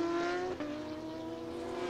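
A GP3 race car in qualifying at the anti-clockwise Circuit Ricardo Tormo in Valencia, Spain, with a steady high engine whine that dips briefly as it shifts, then holds on through a difficult section, loud and continuous.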